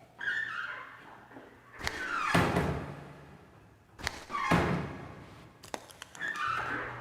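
A door opening in the horror video game Silent Still 2: a few heavy thunks and creaking, scraping bursts with sharp knocks between them, moderately loud over a low ambient drone.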